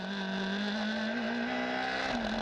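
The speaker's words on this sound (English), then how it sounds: "On board a flying lap of Donington Park Grand Prix circuit with Joel Grandforth, our pole sitter for race 1" A GB3 single-seater race car on a flying lap of the Donington Park Grand Prix circuit, engine droning steadily at high revs from on board, pitch rising gently and dipping briefly near the end.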